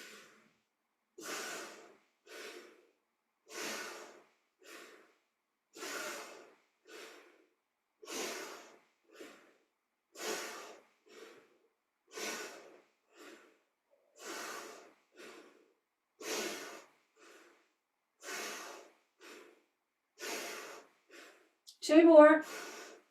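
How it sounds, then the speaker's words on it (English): Deep, steady breaths during a seated yoga twist, paired inhales and exhales repeating in an even rhythm, close and clear with no talking, ending in a louder, rougher exhale. "We'll repeat that breathing pattern that we did before. So the inhale to lift the arms up, the exhale to twist"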